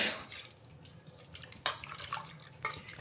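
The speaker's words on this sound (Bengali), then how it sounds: "সেটাকে আমি নিজড়ে জল থেকে তুলে নিলাম।" Water drips and trickles from squeezed, soaked tamarind pulp while making tangy water for pani puri, with faint patters and a few louder splashes against a quiet kitchen background.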